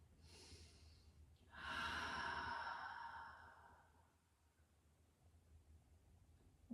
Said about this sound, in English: Big, full, deep breath.